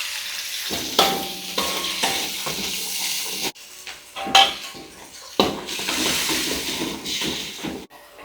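Snakehead fish asam pedas cooking in a pan with turmeric, garlic, shallots, chili and tomato: steady frying sizzle and hiss with scrapes and clinks of a utensil stirring against the pan, close and continuous.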